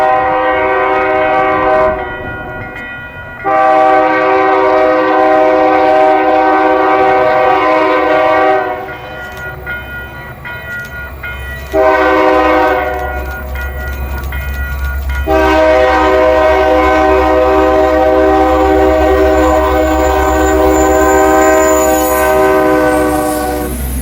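LSRC 1776, a Lake State Railway locomotive pulling the annual Santa Train, passes the Wheeler Road grade crossing north of Standish, with repeated loud chime-horn blasts over a steady low engine rumble and rolling wheel noise.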